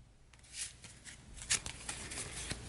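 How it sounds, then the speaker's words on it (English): A deck of cards being shuffled by hand at a tabletop game session, soft riffling bursts with a sharper snap near the middle, close and quiet with no talk. "Once I finish getting this shuffled up"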